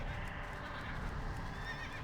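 A horse whinnies in World of Warcraft, its neigh rising over a dense low rumble of game ambience, with faint clip-clop underneath; no talk.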